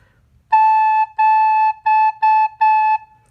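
A recorder-type wind instrument plays the note A softly, sounded as five clear sustained tones with short breaks between them, close and alone in a quiet room.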